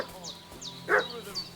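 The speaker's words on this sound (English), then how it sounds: "What's that dog making such a fuss about?" Dog in Kingdom Come Deliverance 2 near Bozhena's cottage, giving a few short yips and one louder bark in quick succession, heard under a steady game ambience.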